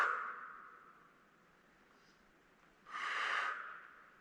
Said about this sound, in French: J'inspire.